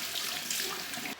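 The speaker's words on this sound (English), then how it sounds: "So now I'm gonna rinse with some warm water." Warm water runs and splashes steadily at a sink as a face is rinsed, a close, continuous wash of water that cuts off abruptly at the end.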